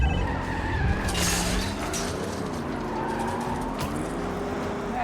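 Car tires skidding and an engine revving during a chase in the video game Spider-Man 2, a loud continuous screech and rumble with a brief louder burst near the start.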